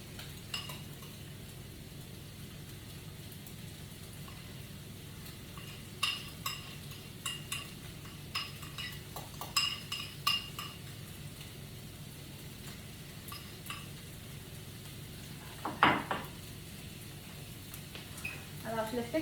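Food sizzles in a frying pan on moderate heat, cooked pizza-style, with a steady hiss broken by scattered clinks and scrapes of a utensil. A voice talks over it at times.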